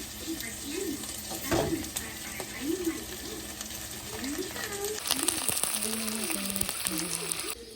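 Garlic sizzles in cooking oil in a home kitchen pan, a steady crackling fry with occasional stirring clatter, while someone talks over it.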